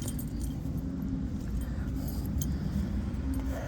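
Car keys jangle softly for the owner of a 1978 Chevy C-10 pickup, a light metallic clinking over a steady low rumble, close and faint.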